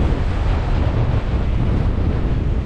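Strong, steady wind roars across a microphone on a solo sailboat in the North Atlantic, loud and close, with the wash of waves blended into the constant rush.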